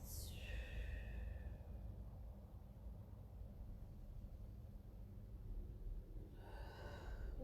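Slow breathing during a Pilates session, a soft airy inhale at the start and another near the end with steady faint breath noise between, quiet and close; no talking.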